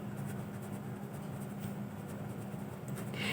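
A pen scratches steadily across paper during a math lesson, a short continuous stretch of close, soft writing over a constant background hum.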